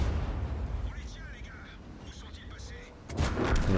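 A tank gun fires in a video game, a deep booming blast that bursts out near the end after a stretch of rumbling game noise with radio-like chatter underneath.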